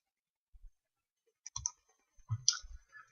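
Computer mouse clicks in a report-setup program, a few soft, sharp clicks in small groups, close and fairly quiet, with pauses between.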